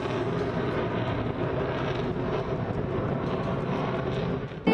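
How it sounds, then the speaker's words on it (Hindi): A Russian Su-57 stealth fighter jet roars overhead in a steady, broad, moderately loud engine rush with wind buffeting. "आसमान में उड़ता हुआ विमान जो दिखाई दे रहा है, ये रशिया का Su-57 है"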